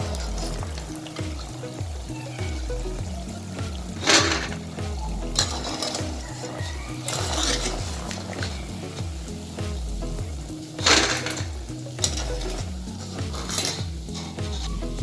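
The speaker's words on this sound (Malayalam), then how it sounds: "ഇനി നമുക്ക് അടുത്ത ബാച്ച് ഇതേപോലെ ഇട്ട് കൊടുത്ത് വറുത്തെടുക്കാം." Kaliyadakka, a small rice-dough snack, sizzles in hot oil while a metal ladle stirs and scoops through the batch, with repeated scraping and clinking against the pan over a constant frying hiss.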